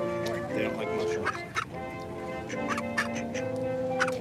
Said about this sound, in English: It's a Disney duck, but they're behind the barriers